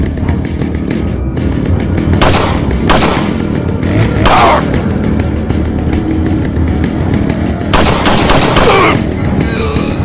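Loud bursts of gunfire from the video game Resident Evil 4 in ruins, several sharp shots spaced across the span over a dense rumbling game soundtrack.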